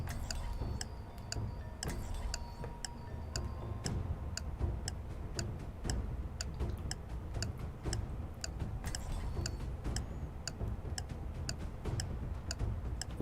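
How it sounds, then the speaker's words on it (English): A clock ticks in a steady, even rhythm, close and clear, with faint background hum and no talking. "Time is ticking."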